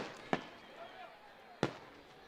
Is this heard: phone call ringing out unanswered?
no